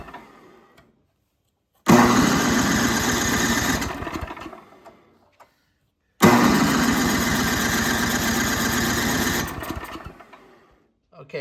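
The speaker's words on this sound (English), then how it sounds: "Let's see if it fires up." A snowblower engine sprayed with carburetor cleaner fires up twice, each time roaring close and loud for a few seconds before sputtering out into silence.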